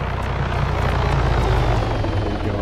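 Helicopter flying nearby, a loud continuous rotor chop and engine roar with a steady rhythmic thump throughout, no voices over it.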